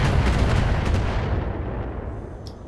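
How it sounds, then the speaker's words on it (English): Indirect missile fire from turrets in the BattleTech video game: a dense, continuous rumble of booming impacts and blasts, loud and close, fading slightly toward the end. "we got some indirect fire coming from that direction"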